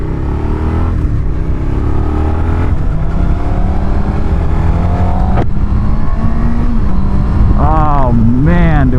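A Honda CB650R inline-four motorcycle accelerates hard through the gears, each loud rising engine wail cut by quick shifts, ending in sharp revving up close while a rider talks over it.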